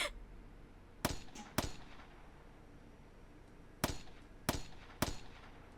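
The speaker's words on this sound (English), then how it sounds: "she yanked down on the trigger, again and again" A character in the Steins;Gate 0 video game fires a gun repeatedly at an IBN 5100 computer: five sharp, fairly quiet cracks at uneven intervals, with near silence between them and no talk.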